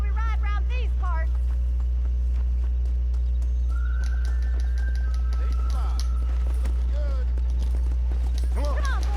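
Horses in the Red Dead Redemption video game whinny and snort while hooves clip-clop under a steady loud hum and intermittent voices, the neighs rising and falling at the start and end.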